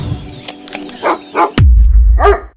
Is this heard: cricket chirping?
no